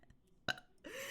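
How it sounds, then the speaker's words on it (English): A single short burp, close and fairly quiet, followed by a breathy rush of noise. "Sorry if I burp in y'all ears"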